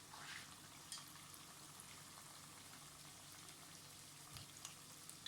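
A homemade chicken and vegetable spring roll fries in hot oil, giving a faint, steady crackling sizzle with small scattered pops, even throughout and without talk.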